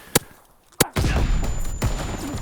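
Gunfire in the video game Call of Duty: Vanguard, with two sharp isolated shots followed by denser rattling bursts and muffled impacts, loud and close.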